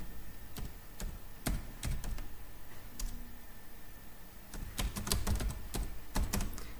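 Computer keyboard typing in short irregular bursts of crisp, fairly close key clicks with brief pauses between words, against a steady low background hum while a heading is entered.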